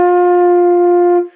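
A flute sounds the note F in one steady, sustained tone blown too slowly, holding evenly for about a second before cutting off, loud and alone with no other sounds.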